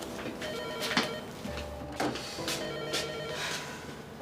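A telephone rings in a room, with repeated bursts of electronic ringing at a steady rhythm, fairly loud and close.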